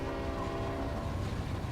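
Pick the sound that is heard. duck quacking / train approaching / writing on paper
train approaching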